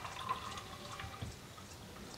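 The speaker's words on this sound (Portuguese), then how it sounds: "Eu vou coar para fazer a minha tinta." Hibiscus liquid, boiled down to a small, strongly coloured remnant, strained for botanical paint: faint soft trickling and dripping, steady and close, with no talk.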